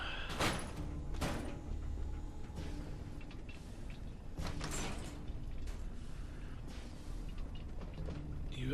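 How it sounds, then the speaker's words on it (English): In Fallout 4, a heavy vault door mechanism grinds and slides open with several sharp metallic clanks and thuds. Softer clunks follow under a low background rumble, with no voices. "You opening doors again there, Dogmeat?"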